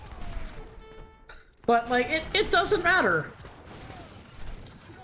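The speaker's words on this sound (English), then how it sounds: "here's 4 heavy cannons he's got there" Heavy cannons fire in Age of Empires III, a burst of booming, crackling artillery volleys in the game mix, heard under casual talk between players.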